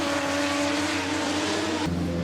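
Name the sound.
drift car revving on start line, anti-lag firing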